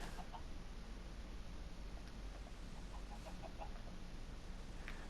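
Chickens in Minecraft give faint, scattered clucks over a steady low background hum, soft and distant with no voices.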